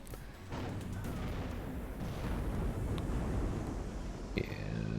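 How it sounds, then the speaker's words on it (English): Artillery fire in the WARNO wargame rumbles as a dense, continuous wash of booms and blasts, with a few sharper cracks standing out over the low roar. "Getting out of the way of that artillery"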